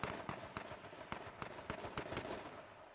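Gunfire in a video game arena match, a rapid series of sharp cracking shots in uneven bursts, moderately distant and fairly faint, with no talk over them.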